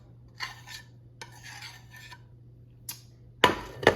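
A metal utensil scrapes leftover breakfast food out of a pan in a home kitchen, several short faint scraping strokes over a low steady hum, ending with two sharper, louder scrapes and clinks.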